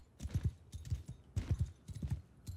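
Horse hooves clip-clop steadily in Mount and Blade 2 Bannerlord as horse archers ride, with paired, even beats close and clear across a few seconds and no talk.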